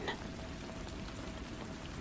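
Gentle rain falls steadily at a soft, even level, a faint continuous patter of drops with no pauses or other sounds.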